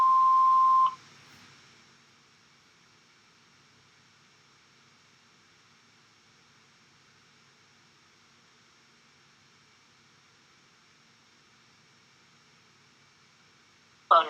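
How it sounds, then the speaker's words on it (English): A voicemail answering machine gives a single short steady beep tone at the start, then near-silence with faint line hiss and a brief click or noise at the very end. "Please leave a message after the tone."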